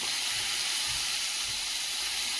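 Tender gourd leaf stems sizzle and steam steadily in a hot pan, a constant broadband hiss with faint low bumps, no voices.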